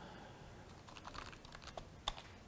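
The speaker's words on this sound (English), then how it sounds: "I'm typing something" Light typing on a computer keyboard during a university database lecture, soft scattered key taps over a noisy room background, faint and a little distant, ending with one sharper keystroke.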